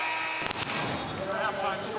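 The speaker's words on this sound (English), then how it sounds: "Gosh, I'm not ready for that dang cannon." A cannon blasts in a West Virginia basketball arena, a sharp boom near the start followed by a roaring crowd and commentators talking over it.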